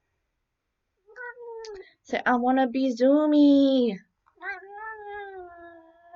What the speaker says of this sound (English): He's an angry kitty.